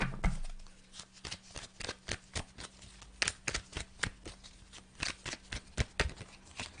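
Tarot de Marseille cards being shuffled, a steady run of crisp riffling snaps and soft slaps close by, repeating in quick bursts with no voices.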